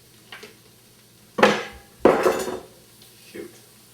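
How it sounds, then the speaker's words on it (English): Kitchen knives, including a Wusthof, clatter onto the floor: two loud metallic crashes a moment apart, the second ringing longer, with a couple of lighter clinks around them in an otherwise quiet kitchen. "Now both my knives are on the floor."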